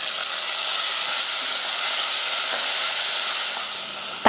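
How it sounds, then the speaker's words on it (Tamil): Small shallots sautéing in oil in a pan for a South Indian lunch dish, a loud, close, even sizzle and hiss that runs throughout, ending with a sharp clink. "அடுத்ததாக கொஞ்சமாக சின்ன வெங்காயம் போட்டு நல்லா வதக்கிக்கலாம்"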